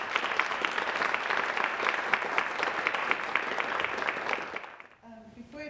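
Audience applause greets a keynote speaker at a symposium, a dense, steady clapping from a sizable crowd indoors that fades out after about five seconds as a voice begins.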